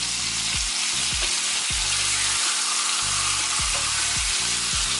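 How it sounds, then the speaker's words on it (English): Lamb chops searing in a pan with butter, garlic and rosemary, a loud, constant close-up sizzle with a few low knocks as the chops are turned. "I'm just gonna turn these over one more time just to get a little bit more seared."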